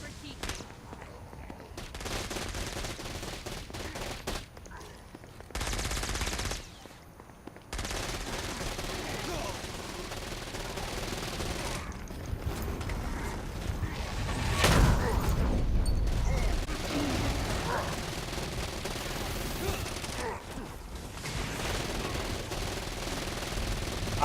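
Gunfire from a weapon in the video game Saints Row: Gat Out of Hell, sustained bursts and shots running nearly the whole stretch with short gaps, dense and loud, mixed with game effects and some voices.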